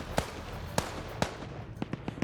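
Explosions and sharp gunfire-like bangs ring out in a military vehicle combat game: a few spaced, fairly distant cracks, then a quicker cluster of smaller pops over a steady rumble.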